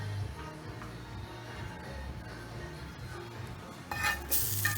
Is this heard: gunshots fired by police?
no